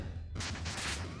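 Bombs going off in the Peglin game, a sudden loud burst of crackling explosions after a short quiet lead-in, several overlapping pops rolling together for about a second.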